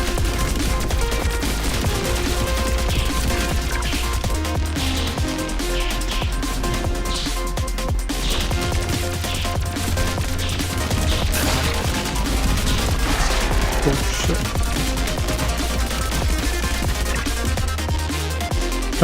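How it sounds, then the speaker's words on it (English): Kinetic shots fired over and over in the roguelite game Pathogenic, a dense, relentless barrage of rapid gunfire bursts and crashing impacts that stays loud and continuous throughout. "I'm just like spamming kinetic shots on him"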